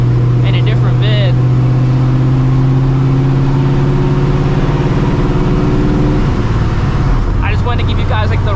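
A supercharged 600HP New Edge Mustang GT roars loudly while driving, holding a steady high-revving drone before the pitch drops sharply as it shifts or lets off, with a supercharger-like whine over the top.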